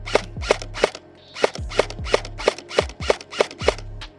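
Stock airsoft replica gun firing at a target 100 feet away: about ten sharp, evenly spaced shots ring out one after another, each crisp snap followed by a brief low thump, with a steady background hum between them.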